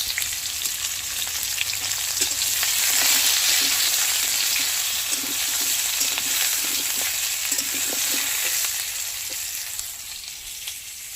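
Potatoes fry in oil for a meat curry, giving off a steady, close sizzle with faint stirring scrapes throughout. Nobody speaks.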